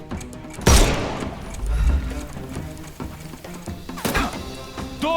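Gunfire in the video game Sherlock Holmes Chapter One, with a loud sharp shot near the start, scattered impacts and another burst toward the end over a busy game soundscape.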